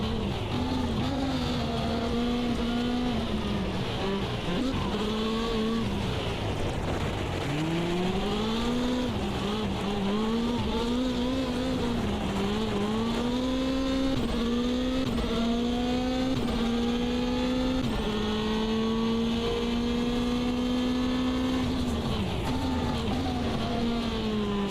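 Race car engine in Automobilista 2 sim racing, a steady loud drone whose pitch sweeps up through each gear and drops at shifts, with revving changes throughout and no talk.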